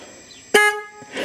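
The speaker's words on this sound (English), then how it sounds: "I'm going to try the horn" Single short honk from the horn of a Triumph Speedmaster Bonneville motorcycle, a loud, bright buzzing tone lasting about a quarter second, then a faint trailing noise.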